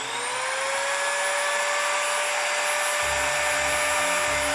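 A repaired Parkside multi-tool runs steadily with a loud, sustained high whine, and a lower rumble joins in partway through as the motor keeps spinning after a fan fix.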